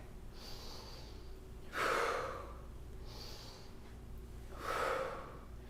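Deep yoga breaths during a kundalini session: two cycles of a soft, airy inhale followed by a louder, forceful exhale, close and alone with no talking.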